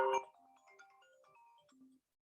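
A phone ringtone chimes out a short melodic run of electronic tones, faint and thin, after a brief louder burst at the start, in a quiet room during a virtual meeting.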